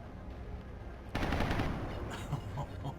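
A burst of automatic gunfire from a shot in the video game XCOM Enemy Within, starting abruptly over a steady background hum and fading into rumbling echoes with a few faint later pops.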